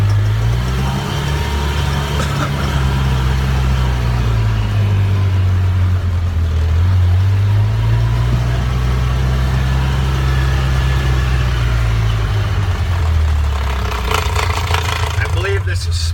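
A vehicle engine drones steadily and loudly throughout, its pitch wavering slightly as it drives across a sorghum field planted with peas and oats, with a few brief clicks and rattles near the end.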